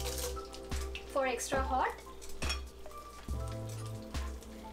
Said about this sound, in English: now I'm going to temper this oil with dry red chili